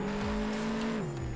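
A McLaren 675LT in a Roblox video game driving through a tight city, its steady engine tone stepping down in pitch as it shifts or slows.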